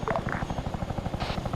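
A helicopter in Arma 3 coming in to land next to a runway, its rotor thudding in a steady rapid pulse that stays loud and close throughout.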